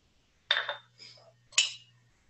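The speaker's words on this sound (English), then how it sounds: "mix it around just to incorporate the spices into the chickpeas" A spoon stirs spiced chickpeas in a bowl as part of a vegan dish, giving two short scraping, clinking bursts of utensil against the bowl over a faint low hum.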